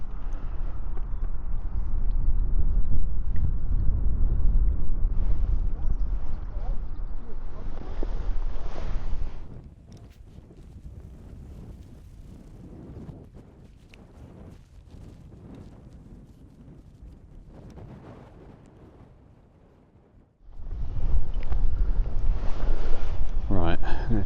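Gusty wind buffets a microphone beside a carp fishing lake, loud roaring rumble for the first ten seconds, then a calmer lull with light rustling, before a strong gust returns at the end.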